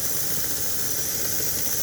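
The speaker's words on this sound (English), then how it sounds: "we connected and I'm running the engine from a remote a little bit" A small N-scale model train engine runs under handheld remote control, giving off a steady high-pitched motor whine and squeal with a constant buzzing hum, close and loud throughout. No one speaks.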